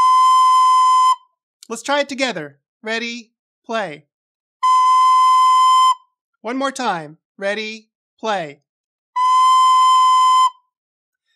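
Recorder holding a steady B note three times, each a clear sustained tone of about a second, alternating with a spoken count-in between them.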